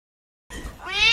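A cat lets out a meow after a moment of silence. The call is drawn out and rises in pitch toward the end, and it sounds close and fairly loud.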